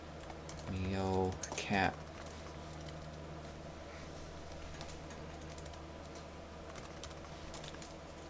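Someone typing a web address on a computer keyboard, a short quick burst of close key clicks lasting about a second, then quiet room tone with faint talk.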